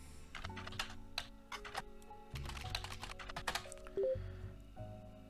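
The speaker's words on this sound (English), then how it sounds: "I'm going to type that in first" Typing on a computer keyboard: a steady run of quick, close key clicks in uneven bursts, over a faint soft musical background with no talking.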